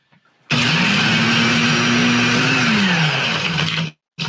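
A small home blender whirs loudly in one sustained burst of about three and a half seconds, a dense motor roar with a pitch that sags slightly as it works, then cuts off abruptly.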